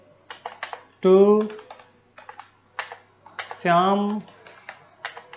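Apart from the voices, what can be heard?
typing on a computer keyboard in MS Word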